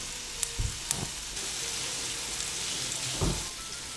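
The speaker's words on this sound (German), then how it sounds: "Währenddessen braten wir hier die Frikadellen." Frikadellen meatballs frying in a pan with a steady broad sizzle throughout, punctuated by a few sharper crackles and spatters, close by with no talking.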